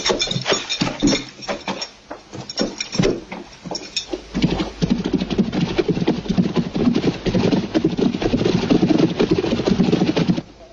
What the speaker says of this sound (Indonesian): bawa kuda-kuda ke belakang